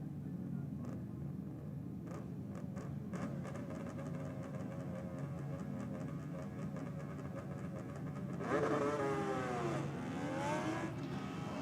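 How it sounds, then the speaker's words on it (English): A Suzuki GT750 'Widowmaker' C-modified drag bike launching on a tiny rear tyre with wheelspin: a steady loud engine drone, then a surging rise and fall of revs near the end, with no talk. "Brett Copping, a little bit of wheel spin out of that tiny rear tyre"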